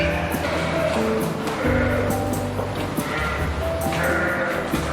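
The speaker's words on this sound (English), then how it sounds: "Visit the farm while they are feeding the lambs" Lambs bleat over and over on a farm during feeding time, many overlapping close and distant cries amid a dense, noisy livestock background.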